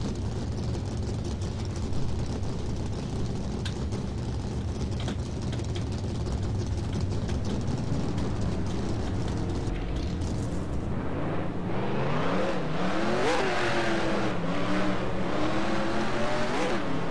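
NASCAR race car engines in the NASCAR Racing 2003 video game idle with a loud ratcheting rumble, then fire up and rev repeatedly in rising and falling sweeps, a dense layered roar.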